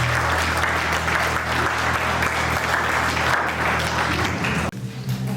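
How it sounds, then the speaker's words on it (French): Wedding guests applaud newlyweds Rudy and Wilma with dense, sustained clapping that fills the room for several seconds, then breaks off abruptly near the end. "Est-ce qu'on peut, pour une dernière fois, les acclamer?"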